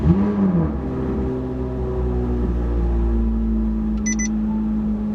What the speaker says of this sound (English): let's do a cold start of the Z06